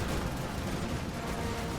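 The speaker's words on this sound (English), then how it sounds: "Cannon shots landing, blowing up tons of defenders as well." Cannon shells landing on a defended wall during the Siege of Pleven in a Russo-Turkish War battle game, a dense, continuous barrage of booming impacts and crackling blasts that stays loud throughout.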